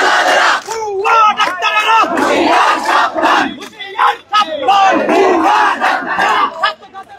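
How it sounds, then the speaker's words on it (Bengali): Protesting doctors at Shaheed Minar chant slogans in unison, a loud, close crowd with rhythmic shouted phrases rising and falling over several seconds. "সে ডাক্তার তারা কিন্তু নানা ধরনের স্লোগান দিচ্ছেন"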